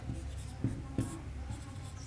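Pen or chalk writing on paper or a board during a maths lesson, a few soft scratchy strokes with two sharper taps, close and fairly quiet over a low background hum.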